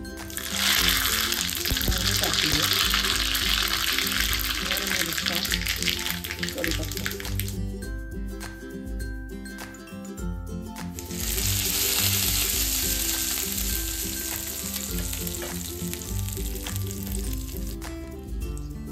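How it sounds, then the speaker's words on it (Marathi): Hot oil sizzles loudly in a pan while tempering a chutney served with rava idli. The crackle is strong, then fades in the middle and surges back to a dense, steady fry. "इथे आपण तेल गरम करून घेतलंय फोडणीसाठी"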